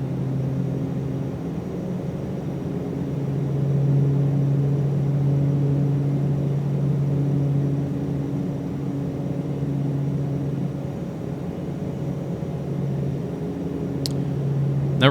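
Constant turbine-like drone of the Black Square Starship's engines in a flight simulator, a low steady hum swelling slightly as power comes up on approach, with a brief high click near the end and no talk.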